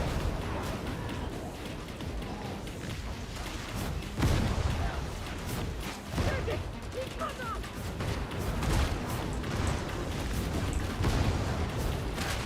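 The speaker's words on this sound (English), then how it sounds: "This is where the Void Strike really shines though. Big hordes that you can just explode." Void Strike psyker power blasting apart enemy hordes in the video game Darktide, a dense, continuous roar of combat with heavy booming bursts and crackling impacts rising out of the din several times.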